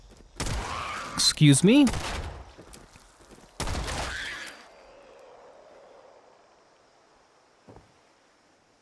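Gunfire in the post-apocalyptic game Fallout 76: two loud bursts of rapid shots with ringing tails, a faint pop later, and a brief spoken question between them.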